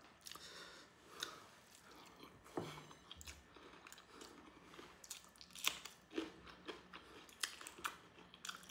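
Someone bites and chews a mature green chili up close, with crisp crunches and wet chewing that come in irregular bursts and sit fairly quiet, with no talking.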